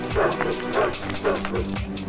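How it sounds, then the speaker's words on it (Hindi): Village dogs barking as they chase a man, a rapid run of repeated close barks and yips in steady rhythm, loud and insistent, with a voice mixed in. "गांव के कुत्तों ने दूर तक उसका पीछा किया।"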